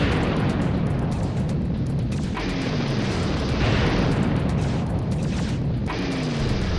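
Relay station blowing up in the video game Hellbender: a continuous loud roaring rumble of explosions with several bursts layered over dense noise, alone without talk.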